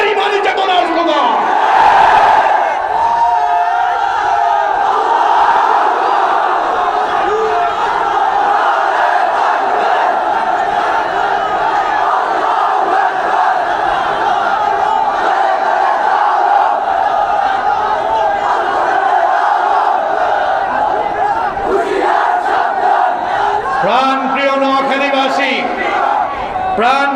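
A large crowd at a religious rally in Noakhali chants Allahu Akbar in loud, sustained unison, voices massed and continuous with a few rising shouts near the end.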